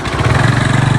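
A motorbike engine running steadily at close range while being ridden, a low pulsing throb that holds for a second with no talk over it.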